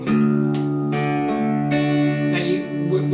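The low D string of a harp guitar is plucked and rings out with a rich, sustained tone, followed by more resonant plucked notes overlapping in a warm, close sound.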